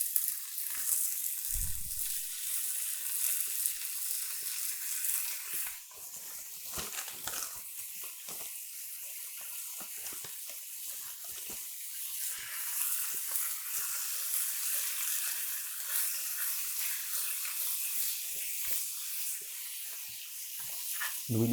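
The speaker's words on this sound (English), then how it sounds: "we want to take our ham, our dry aged ham. Oh, yeah, beautiful. Kind of start to fry that up a little." Dry aged ham frying in a pan gives a steady, close sizzle and hiss that runs unbroken throughout, with occasional small pops and crackles and no talking.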